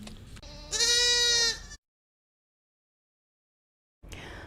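One goat from a herd gives a loud, wavering bleat up close, with quieter animal noise just before it, then silence until a faint rustle at the end.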